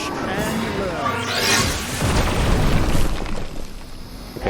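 An explosion in the superhero tactics game Marvel's Midnight Suns, heard as a rising whoosh followed by sustained, booming, crackling blasts that stay loud and dense for several seconds.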